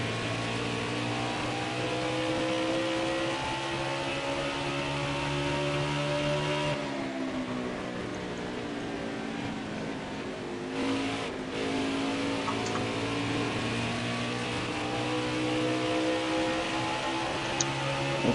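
Race car engines howl at full throttle in a racing video game at ISM Raceway, a dense, steady roar of multiple cars with layered engine tones shifting pitch as they rev and pass, loud and continuous throughout.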